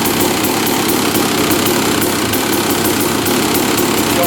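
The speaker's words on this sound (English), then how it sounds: "We can actually start the engine up and see if it works here." A Honda dirt bike engine runs loud and steady at close range, a continuous rattling drone with rapid regular pulsing and no talk.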